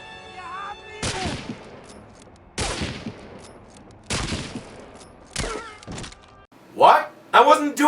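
Gunfire from German soldiers in Medal of Honor Allied Assault: four sharp, loud bursts about a second apart, then a tight cluster of quicker shots near the end, with no talking.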